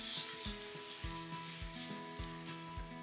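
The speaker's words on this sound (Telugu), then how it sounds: "పన్నీర్ మంచి ఫ్రై అవ్వాలి ఆయిల్లో." Paneer pieces fry in hot oil in a kadai, a soft steady sizzle with occasional stirring scrapes and light clinks of a spatula against the pan, close and quiet with no talk.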